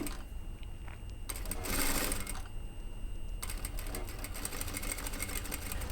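A sewing machine stitching a curved hem, heard in quick bursts of rapid mechanical whirring and clatter with short pauses between runs, close and steady, with no talking.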